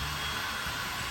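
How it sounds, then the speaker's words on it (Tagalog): A heat blower used for sealing runs with a steady, dense whooshing roar, loud and unbroken throughout. "Ayan yung blower na pang seal."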